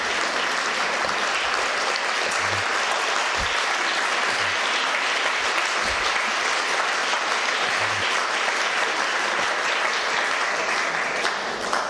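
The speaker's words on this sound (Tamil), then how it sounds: "இவ்வளவு நேரம் கை தட்டினீங்கன்னு என்ன அர்த்தம்?" A church audience applauds continuously at length, a dense, even wash of clapping from a large crowd with a few low thumps underneath.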